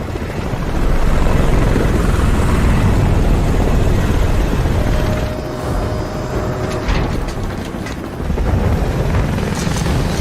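A military helicopter in the SOCOM 4 game flies close and loud with a dense, chopping rotor roar and turbine whine that drops briefly midway, then surges back up.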